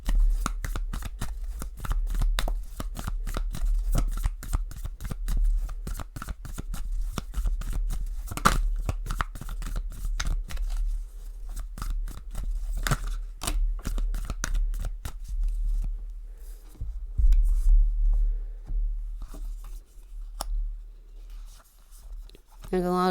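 Tarot cards shuffled continuously by hand up close, a dense, rapid stream of papery riffles and clicks that runs steadily for over twenty seconds before easing slightly near the end.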